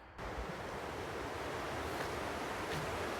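A river in Oregon rushes steadily, a broad, continuous wash of flowing water that stays close and loud throughout with no voices.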